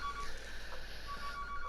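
A telephone rings in a Dreams PS4 horror game, a steady electronic trill running through the whole stretch over a dark, humming background; no voices.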